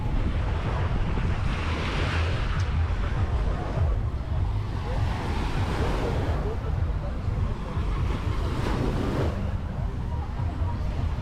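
Sea waves wash onto the shore at Cancun in a continuous loud surge, mixed with strong wind buffeting the microphone and a voice talking over it.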